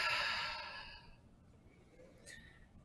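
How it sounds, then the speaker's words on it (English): A single long exhale through an open mouth during a yoga session, breathy and close, loud at first and fading over about a second, then quiet room tone with a faint small sound near the end. "Open mouth, exhale it out."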